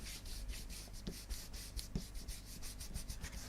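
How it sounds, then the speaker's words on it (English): An ink blending brush scrubs ink onto paper in quick, rhythmic up-and-down strokes, a soft close-up scratchy rubbing that repeats steadily throughout with no talking. "this is where I get my ink blending brushes, so starting with broken china and just start rubbing that through"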